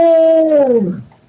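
A single loud, close dog howl, a long clear tone that bends downward and trails off in about a second.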